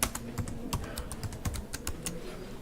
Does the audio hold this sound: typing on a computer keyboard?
yes